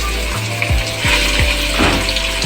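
Chicken pieces dropped into hot oil over golden-brown fried onions. A steady loud sizzle with repeated thuds as the pieces land, close and with no talk.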